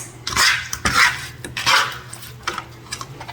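Fajita mix is scraped and dropped into a pasta dish in a home kitchen, with close clattering utensil knocks and muffled thumps against the pot in a few uneven bursts.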